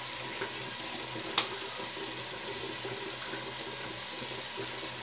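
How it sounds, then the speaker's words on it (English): Warm water running steadily from a bathroom tap to wet the face before shaving, an even close hiss throughout, broken once by a brief sharp click. "So the tap is warm, so let's wet the face"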